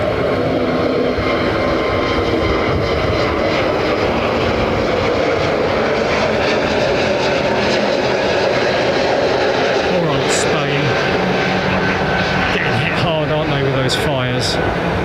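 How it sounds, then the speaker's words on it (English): An Airbus A321neo at London Heathrow Airport gives a loud, continuous engine roar and broad rushing wash that holds steady throughout, with faint voices in the background and a few rising tones near the end. "Such a big selling aircraft, this 321neo. Listen how quiet it is."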